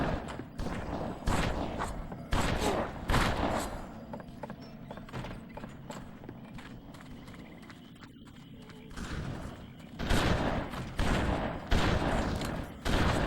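Repeated bursts of gunfire from the game Headhunter Redemption, loud clustered volleys with a quieter stretch in the middle before the shooting resumes.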